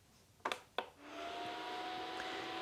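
Two quick clicks of a filament dryer switch, then its fan spins up into a steady, fairly quiet whirring hum with a faint tonal whine, close and continuous.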